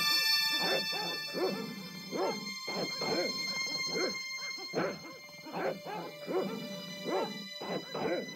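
Dogs barking in the Broken Sword adventure game, set in Spain: repeated sharp barks and yips come in an irregular run of bursts, fairly close and loud, with some whimpering between them.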